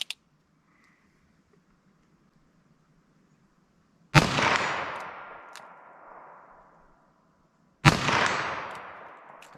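Two loud, sharp gunshots from a 3-inch .22 Magnum revolver firing Winchester SJHP rounds, a few seconds apart, each crack followed by a long echoing decay, with quiet before the first.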